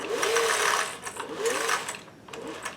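Sewing machine running a small zigzag stitch through fabric with a straight stitch foot, whirring in three short bursts with brief pauses, fairly quiet and close, with no voices.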